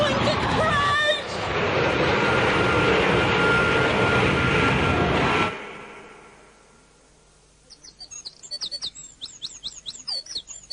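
Aircraft engine roaring before a crash in an audio drama, a loud, dense, sustained roar with a voice shouting over it that cuts off abruptly, then fades to quiet, with bird chirps rising afterward.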